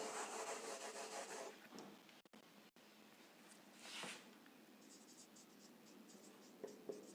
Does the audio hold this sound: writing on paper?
yes